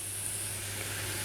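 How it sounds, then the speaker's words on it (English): Chanterelle mushrooms sizzle steadily in a hot pan as their water cooks out, a soft continuous hiss with no voices over it. "You can actually hear the water coming out there now"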